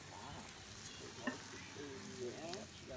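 A buttered cheese sandwich browns in a pan at a campsite, giving a steady soft sizzle with faint scrapes and a light tap, quiet and continuous.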